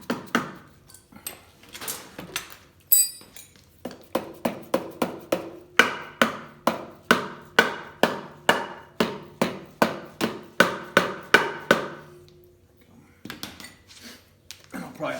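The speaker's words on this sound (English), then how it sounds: "Let me grab my dead blow again and kind of tap on it. See if I can get it broke loose." A dead blow hammer taps repeatedly on a part of a Harley-Davidson 883 Sportster engine during a 1275 kit install, a steady run of about twenty sharp knocks with scattered handling noises before and after.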